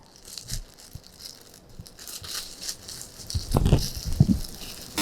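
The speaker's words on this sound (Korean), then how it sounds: "쓰레기 분리수거를 할 때는 반드시 비닐장갑을 끼고 합니다" Thin plastic gloves being pulled on before sorting trash at a convenience store, with close crinkling and rustling and a few louder crackles toward the end, no speech.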